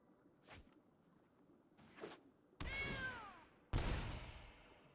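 A cat meows several times, two short faint calls followed by two louder, longer meows close by, with no talk over them.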